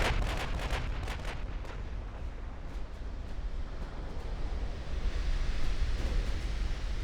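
Heavy naval battle noise as a light cruiser's torpedo strikes a battleship in Ultimate Admiral Dreadnoughts, a sustained roaring rumble with several sharp cracks of gunfire early on over a wash like surf.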